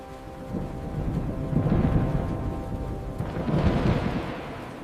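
Night thunderstorm over the mountain village of Grindelwald, Switzerland, with deep rolling thunder that swells twice over steady rain, fairly loud and close.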